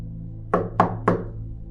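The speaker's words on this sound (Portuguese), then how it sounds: "uma mulher idosa e misteriosa bateu à sua porta" Three firm, evenly spaced knocks on a door, close and clear against a quiet low background, with no voices.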